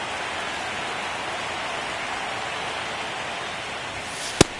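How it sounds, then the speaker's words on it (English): Heavy rain pours steadily during a baseball game, a dense, even hiss that holds at the same level throughout, ending with one sharp click. "This rain is not letting up."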